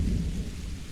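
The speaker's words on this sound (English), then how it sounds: "The drizzle has soaked your clothes." Rain and drizzle in the video game Without a Dawn make a dense, continuous low rumbling wash, loud and steady across a brief moment with no voices.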